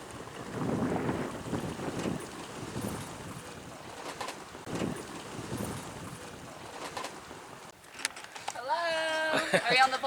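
Strong wind buffets the microphone while a houseboat with no motor is towed on the water, a steady roaring rush with gusts, birds faintly audible and a person speaking near the end.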